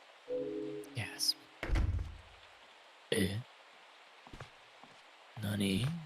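Heavy door thuds in the horror video game Michigan: Report from Hell, a few dull knocks and thumps spaced apart amid low ambience and scattered voices.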